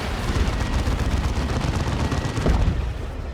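Autocannon fire from Chaos Terminators in a Dawn of War 2 battle, a dense, continuous barrage of overlapping gunshots and booms with a heavier burst near the end, loud and steady throughout.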